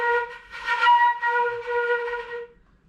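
Flute holding a B flat with an unsteady, wavering tone, a clear harmonic-rich note that wobbles and swells in loudness for nearly three seconds before tailing off, played alone with no talk.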